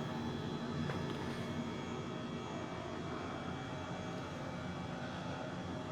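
Airbus H135 helicopter engine idling in Microsoft Flight Simulator 2020, a steady broadband turbine whine and rumble that holds evenly throughout without talk.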